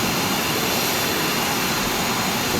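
Steady, loud roar of an F-4E Phantom II jet engine in Microsoft Flight Simulator, a dense, unbroken rush of broadband noise with no variation and no talking.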